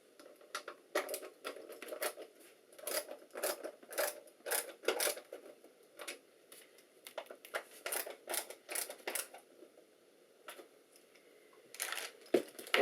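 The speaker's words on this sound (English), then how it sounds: "Just going to tighten them down better with the screwdriver." A screwdriver turns screws down tight on a Project Stardust breaker build, giving close, dry clicking and ratcheting scrapes in short bursts with brief pauses between them.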